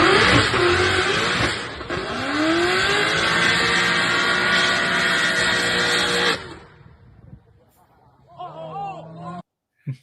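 UK Tom Bagguley's drag racing car blasts through a run with a loud, sustained engine roar for about six seconds, then cuts off abruptly, followed by fainter mechanical noises and a brief voice.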